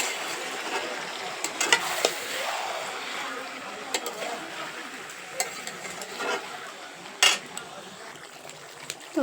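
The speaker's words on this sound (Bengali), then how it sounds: "একটু নেড়ে দেব যাতে তলায় না লেগে যায়" Meat being stirred and fried in a pan over a clay stove, a steady soft sizzle broken by scattered scraping clicks of a utensil, close and fairly quiet.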